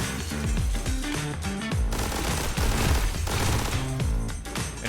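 Rapid gunfire from The Hong Kong Massacre video game, dense bursts of shots layered over loud driving music, continuous and close.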